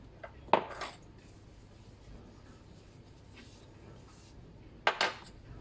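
A small ramekin and spatula handled on a counter while preparing an aloe vera mask: two sharp clinks and scrapes, one near the start and one near the end, with quiet room tone between.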